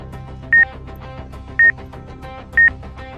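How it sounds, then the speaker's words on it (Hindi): A friendship band's tiny alert light gives three short, bright electronic beeps, evenly spaced about a second apart, each standing out clearly over a soft, steady musical bed. "तभी उनकी कलाई पर बंधे उस फ्रेंडशिप बैंड में एक नन्ही लाल बत्ती तेजी से लपकने लगी। Beep beep beep."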